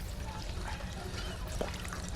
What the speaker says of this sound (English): let's pump on some water a little bit